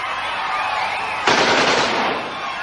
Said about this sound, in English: bullets are flying all over the place